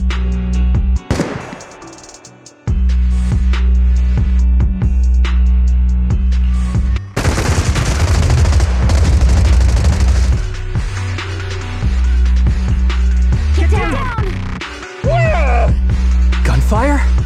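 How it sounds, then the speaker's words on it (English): Suppressive marching fire in the video game Zenless Zone Zero, loud bursts of gunfire and booms over a tense music score, with people talking over the shots in places. "Gunfire? This pattern. Suppressive marching fire."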